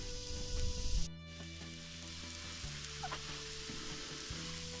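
Food sizzling and frying over a campfire at a canoe campsite on the St. Marys River, a steady close crackle with a louder burst at the start, then a continuous even hiss.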